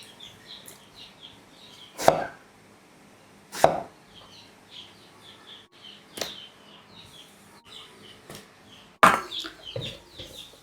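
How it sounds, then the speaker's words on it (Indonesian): Eggplant being chopped into quarters on a cutting board, a few sharp separate knife strikes spaced a second or two apart, close and distinct with quiet gaps between them. "Lanjut kita potong-potong ini terong. 1 buah belah jadi 4."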